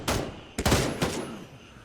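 Suppressing gunfire in the tactical shooter Gray Zone Warfare: three sharp bursts of shots in quick succession, fairly distant and moderately loud, each trailing off into a brief echo.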